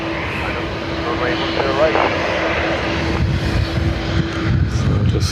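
An Aer Lingus jet airliner departing Dublin Airport for Lisbon, a steady loud engine roar swelling slightly, mixed with a radio voice and wind noise throughout.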